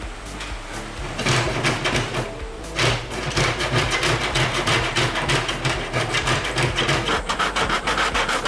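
A hand saw cuts through wood for the interior wall of a mountain hut, with steady rapid rasping strokes, loud and close, after a short pause near the start.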